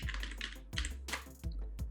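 Keys clatter on a computer keyboard in quick, uneven bursts with brief pauses between them, close and fairly quiet, as text is typed into a DaVinci Resolve 15 title.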